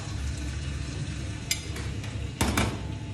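Garlic, oil and crumbled sausage sizzle steadily in a pan for pasta e fagioli alla contadina, a continuous close frying hiss broken by a couple of brief clatters of stirring against the pan.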